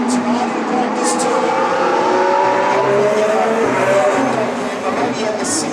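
Formula 1 cars race around the Singapore Grand Prix street circuit during first practice, a steady roar of engines with rising whines as cars pass, under a commentator's voice.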